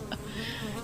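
A bee buzzes in a short, faint drone that hovers close, with a brief brighter burst at the start; a quiet voice carries on underneath.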